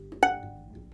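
A single pizzicato pluck on a violin E string, stopped with the first finger, giving one short, bright twang that rings briefly and fades, close and alone.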